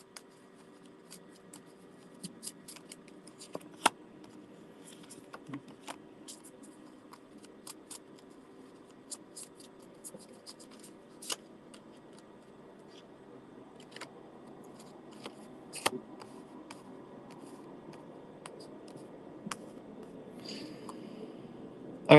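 Tarot cards are drawn from a deck, making soft, scattered snaps and papery rustles over a quiet room, with occasional sharper clicks and no speech.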